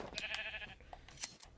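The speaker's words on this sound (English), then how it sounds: "These sheep just won't stop eating." Sheep in the Minecraft video game bleat several times in quick, short calls, fairly quiet, with a few scattered game sounds between them and no talking.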